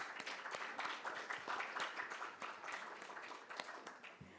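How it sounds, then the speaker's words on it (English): An audience at a conference panel discussion claps, a moderate, fairly even patter of many hands heard from a little distance, without cheering over it. "Put your hands together in a massive round of applause"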